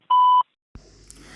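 A single clean electronic beep on a KBC IVR phone call recording, a steady tone lasting about a third of a second, followed by a short silence and then faint line noise.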